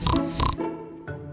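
A pig grunts and oinks twice in a row, close and fairly loud, followed by a shorter grunt after a brief pause, with no voices.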